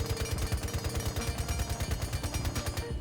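The Frost SMG fires a sustained full-auto burst in Rainbow Six Siege, a rapid, even stream of close, punchy gunshots lasting about three seconds.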